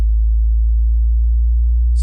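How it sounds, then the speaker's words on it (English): A pure low sine tone sweeping steadily upward from 30 Hz to 120 Hz, loud and continuous on its own, with a brief faint click at the end. "a low frequency sine wave, but this time sweeping from 30 Hz to 120 Hz"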